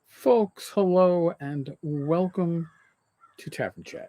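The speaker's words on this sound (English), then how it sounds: "crow in the background cawing." A crow caws a few times outdoors in the background, under and between a man's close spoken greeting, with the calls sounding distant and fairly faint.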